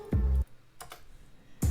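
Typing on a computer keyboard: a few quick clusters of light key taps, close and fairly loud, spaced apart by brief quiet gaps with no talk over them.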